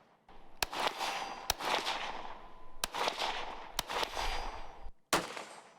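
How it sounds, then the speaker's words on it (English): Real rifle gunshots on an outdoor range, five or six sharp loud cracks spaced about a second apart, each followed by a ringing ping of bullets striking a steel target and a decaying echo. "when you're hearing the ting ting, that's me hitting the target"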